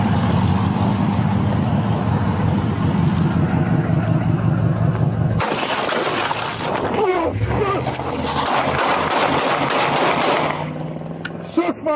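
Gunfire at a night traffic stop in Nevada, a rapid crackling burst over idling engine noise, then a sharp transition into shouting and vehicle sounds, loud and close.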